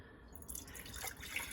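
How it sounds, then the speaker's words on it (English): Homemade vegetable stock is poured into jars, giving a soft, close trickle and splash of liquid that runs briefly and faintly. "I'm just gonna pour it into my jars."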